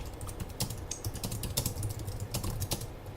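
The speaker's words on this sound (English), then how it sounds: "we are in the message area, so I can type in some text" Rapid, irregular clicking of keys on a computer keyboard as text is typed into an email message area, close and steady for a few seconds with no talking.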